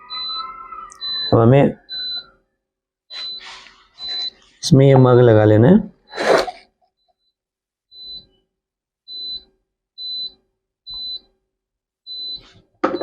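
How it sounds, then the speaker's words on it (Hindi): A dual mug printing machine at 200 degrees gives short, steady electronic beeps that repeat in an even rhythm, with someone talking between the early beeps. "मशीन बीप कर रही है क्योंकि लगभग आप देख पा रहे होंगे 200 डिग्री आपका टेम्परेचर मेंटेन हो गया है"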